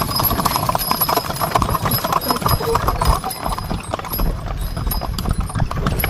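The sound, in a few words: horse hooves clip-clopping, pulling a delman (andong) carriage at Borobudur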